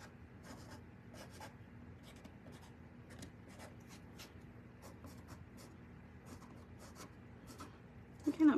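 A marker sketches an outline on paper in short, scratchy strokes, quiet and close, repeating at an uneven rhythm, with a soft steady hum underneath and a louder handling bump at the end.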